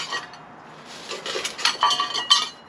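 Camping cook set pieces clinking together, two metal pots, cups, lids and a knife, fork and spoon kit, giving a quick run of close, bright metallic clanks and rattles that grow busier toward the end.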